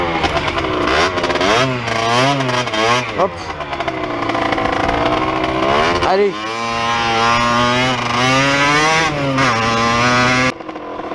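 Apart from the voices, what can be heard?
KTM EXC-F 250 enduro motorcycle riding in first gear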